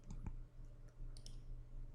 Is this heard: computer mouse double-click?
yes